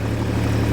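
Tractor working a sugarcane field on a second pass, a steady low engine drone that stays loud and even throughout, with no other sounds.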